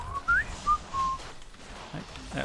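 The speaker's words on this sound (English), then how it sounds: "I whistle a lot, yeah." A man whistles a few short notes close by, a quick rising chirp followed by two brief held tones, then fades into quiet room noise.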